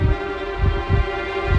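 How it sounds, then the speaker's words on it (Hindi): A steady heartbeat sound effect pulses from a mysterious sphere, with deep low thumps repeating in a regular rhythm over a sustained hum. "विवान के धड़कन की आवाज सबसे पहले उस गोले में से आई थी, है ना?"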